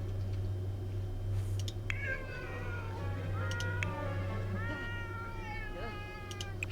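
A person imitates a cat with a series of drawn-out, whiny meows, spaced irregularly over a steady low hum, moderately close but not loud.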